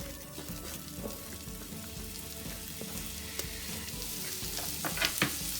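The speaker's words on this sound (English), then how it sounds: "put some butter in a pan, and then just get it starting to melt, and then add in your onions" Onions fry in melted butter in a pan, crackling and sizzling steadily at close range, with light stirring pops and no voices.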